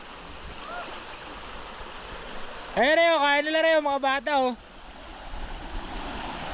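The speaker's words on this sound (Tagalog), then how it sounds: "sa sobrang lakas nga ng current ng tubig" A strong river current rushes steadily in a continuous broadband roar, with a person speaking briefly over the water.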